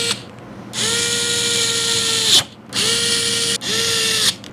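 A small electric screwdriver whirs in three sustained bursts with brief gaps between them, loud and close, as screws are driven with a 1.5mm hex bit into an FPV drone frame.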